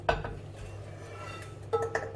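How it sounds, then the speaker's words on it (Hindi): Metal spoon scraping and clinking against a pan and plate as roasted semolina for suji ka halwa is moved out, a couple of sharp clinks at the start and again near the end over quiet kitchen background. "अब मैं इसको एक प्लेट में शिफ्ट कर दूंगी।"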